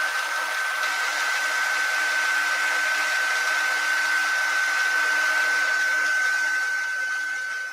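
A handheld hair dryer blows steadily to dry watercolour ink on a card, a constant close whooshing drone with a high whine that runs unbroken throughout, no talking.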